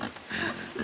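A pig in the video game INSIDE gives a short, faint grunting oink, a single nasal snort lasting under a second.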